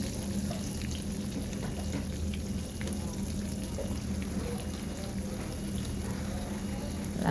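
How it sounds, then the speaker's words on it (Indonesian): Ground spice paste sizzles and fries in hot oil with bay leaves and lime leaves, a steady continuous crackle with light stirring, for Cirebon nasi lengko, a soft voice speaking faintly underneath. "Kita masukkan bumbu halus berikut daun salam dan daun jeruknya. Kita aduk-aduk dan tumis sebentar."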